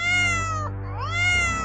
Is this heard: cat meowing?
yes